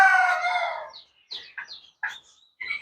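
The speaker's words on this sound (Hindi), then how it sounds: "टर्की है ये, तुर्किस्तान का ओरिजिनल है" Turkeys call on an Indian livestock farm: one loud, close, drawn-out call followed by three short, clipped gobbling bursts at uneven intervals, with no other sound in between.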